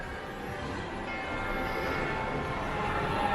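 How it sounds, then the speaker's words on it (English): A kids' ride-on train circles inside Ayala Center Cebu mall, a steady rolling rumble that grows slightly louder as it passes, set against general mall ambience with a faint bell-like tone. "train that goes around Ayala, bringing kids riding in there"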